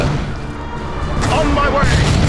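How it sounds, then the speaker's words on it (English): Artillery strike explosions boom across a battlefield in Dawn of War 2, a thick, sustained wash of blasts and rumble swelling louder partway through. "Incoming artillery strike! Clear the target area!"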